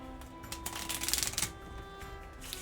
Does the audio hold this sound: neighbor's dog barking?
no